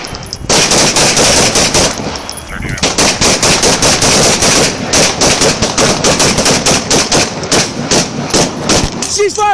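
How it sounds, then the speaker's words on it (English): Rapid, loud bursts of gunfire from a handgun and shotgun crack repeatedly in a fierce, sustained exchange during a police shootout near a street, with shouting voices mixed in. "he continued firing as he ran toward the street"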